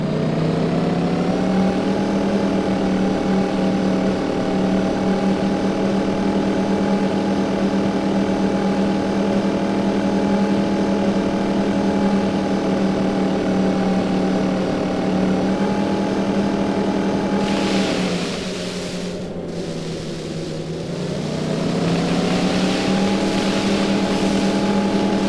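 A scout buggy in the game Take on Mars gives a steady, loud engine drone that holds its pitch throughout, dips briefly near the end amid a rushing noise, then returns to the same level.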